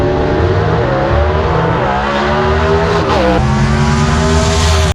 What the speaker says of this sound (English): You can hear those small blocks wind.